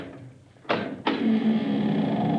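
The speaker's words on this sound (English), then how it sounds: "while I open this door." A door in an old radio drama opens with two abrupt close knocks or latch clunks, followed by a sustained low rumbling hum that carries on steadily to the end.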